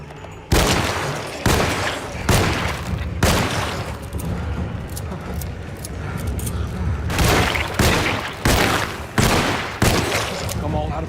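Gunfire in the video game Alone in the Dark, about a dozen loud booming shots, some spaced apart and some in quick bursts, over a rumbling game soundscape.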